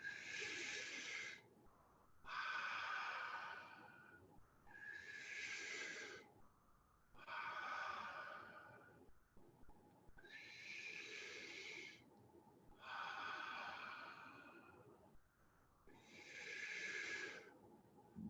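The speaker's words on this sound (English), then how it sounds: "Breathe in." Slow guided deep breathing, seven long breaths alternating in and out with short pauses between them, close and moderately loud, no talking.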